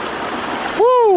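Cold mountain stream water rushes steadily on a climb up Mount Elbert, a broad continuous wash that ends abruptly as a voice cuts in with a rising call.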